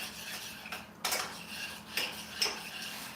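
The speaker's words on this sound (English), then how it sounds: "Let's give that a little stir" A spoon clinks and scrapes against a pot of simmering sauce in a home kitchen, a few sharp metallic taps spaced over a quiet background, close and moderately loud.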